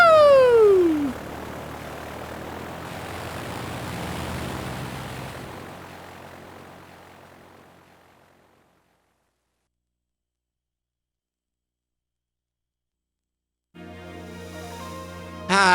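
A propeller airplane drones loudly through a Pokémon White 2 cutscene, its engine tone sweeping and fading away to silence before a short burst of game music returns at the end.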